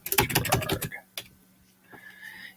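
Typing on a computer keyboard, a quick run of close, crisp key clicks followed by a few scattered, softer taps.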